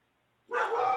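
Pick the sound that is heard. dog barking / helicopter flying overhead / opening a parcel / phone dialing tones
dog barking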